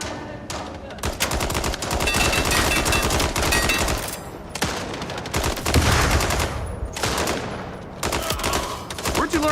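Sustained rapid gunfire in the cyber open-world shooter MindsEye on PC: loud, dense automatic bursts running almost continuously, broken only by a few brief gaps.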